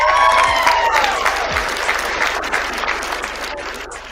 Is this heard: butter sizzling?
no